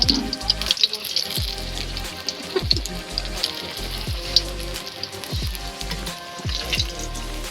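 Beguni, eggplant fritters, fry in hot oil with a steady crackling sizzle and scattered sharp pops, over a low background hum and faint voices.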